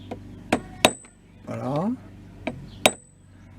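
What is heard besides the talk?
small hammer tapping a screwdriver onto mower brush-holder tabs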